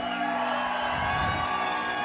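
A church congregation shouts and cheers together, a dense sustained roar of voices and whoops filling the room, loud and continuous throughout.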